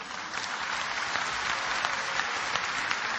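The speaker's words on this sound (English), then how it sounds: "MashaAllah, you're clapping." An audience claps steadily at a religious talk, the dense applause sustained and fairly loud with no voices on top.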